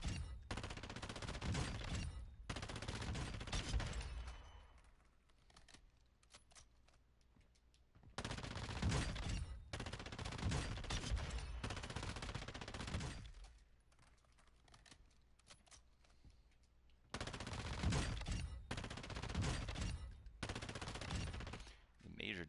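Suppressed assault rifle fire on the firing range in the video game DMZ: repeated bursts of muffled automatic shots in several long strings, separated by brief pauses, fairly close and steady.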